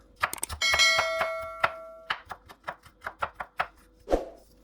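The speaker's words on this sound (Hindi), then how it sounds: "ये देखें जी, इस तरह सारे प्याज हमने काट लेने हैं।" A knife chops onions on a board in a quick burst of sharp, close strikes with a brief metallic ring, then settles into a steady rhythm of single chops with no talking.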